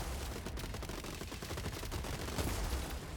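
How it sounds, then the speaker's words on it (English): Rapid, clustered gunfire from robot shotguns in the game Gladiabots, a dense crackling barrage of overlapping shots at steady moderate loudness with no talk. "These shotguns are really annoying."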